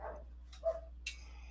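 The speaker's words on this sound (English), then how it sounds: "This dog is getting on my nerves and she's distracting me." A dog in a home studio gives a couple of short muffled barks and a yip indoors, moderately close, with quiet room hum between the sounds.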